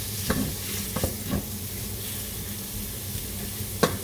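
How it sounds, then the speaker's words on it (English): Breakfast sausage fries in a pan with a constant sizzle, broken by several sharp scrapes and clacks as a utensil breaks it up and stirs it, close and without talking. "to scramble this breakfast sausage"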